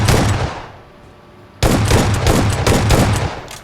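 Shotgun blasts in a first-person shooter video game, loud and close, with one heavy shot, a short lull, then a rapid run of repeated booming shots.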